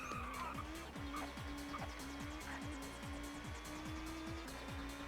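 A Laguna touring car races in the video game TOCA Touring Car Championship, its engine revving up and down through rapid gear changes while its tires squeal in a skid throughout.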